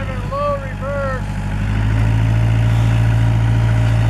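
A Kubota L345DT tractor plowing snow in low reverse gives a steady low engine drone that grows louder and fuller midway, with a brief voice near the start.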